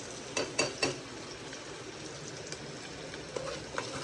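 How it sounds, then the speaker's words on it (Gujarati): Onions and chillies frying in hot oil in a pan for an egg curry, a faint steady sizzle with a few soft stirring clatters near the start and light ticks near the end. "અત્યારે ડુંગળી અને મરચાં નાખી દીધા અને હજી શેડવવા દેવાનું છે"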